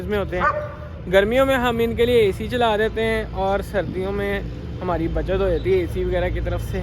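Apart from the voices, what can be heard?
dog barking at peacocks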